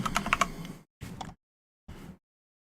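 Typing on a computer keyboard to search for a Nintendo game: a quick burst of clattering keystrokes followed by two shorter bursts separated by silent gaps, close and fairly quiet.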